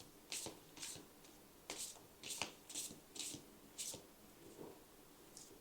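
Tarot cards shuffled and drawn during a pick-a-card reading, a series of soft papery riffles and flicks in short bursts, close and fairly quiet with no talking.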